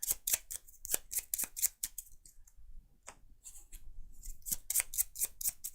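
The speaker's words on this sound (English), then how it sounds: "And then these cards get shuffled back in." Playing cards from a Perseverance board game are shuffled by hand in quick bursts of crisp riffling clicks with brief pauses between, close and clear with no talking.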